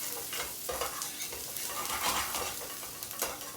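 Chopped shallots sizzle in a pan as steak au poivre is being made, a soft, steady frying hiss broken by scraping stirs and light utensil taps close by.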